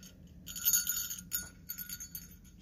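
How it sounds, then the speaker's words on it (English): A small jingle bell ornament from a Christmas tree decoration set jingles close by in a few bright shaking bursts with short gaps, alone without talking. "Just a little jingle bell"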